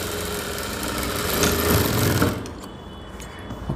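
A sewing machine stitches a blouse along a folded half-inch hem with a tension stitch, a steady close mechanical whirr that runs for about two seconds and then stops, leaving faint clicks.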